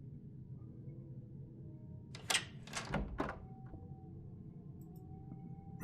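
A locked door rattled and tried in the point-and-click game Art of Murder, three quick clunking thumps close together, standing alone over a low steady hum.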